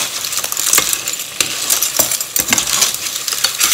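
Baby clams (pipis) stirred in a hot pan, their shells clicking and clattering in a steady, uneven rhythm over a constant sizzle, close and fairly loud.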